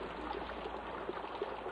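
Steady rushing flow of a small stream where crayfish are being caught, a continuous broadband water noise with faint gurgles and no voices.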